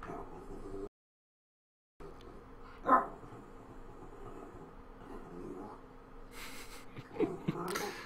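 A pet dog named Bella barks indoors beside someone playing an online card game, giving a sharp bark near the middle and a cluster of short yips toward the end, set against quiet room tone.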